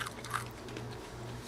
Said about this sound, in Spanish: voy a agarrar un pedacito para que chequen qué tan crujiente quedó